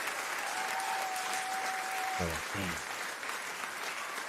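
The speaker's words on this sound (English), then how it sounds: "Give you a round of applause." A sustained round of applause, dense steady clapping throughout, with a brief electronic tone and a couple of thumps partway through.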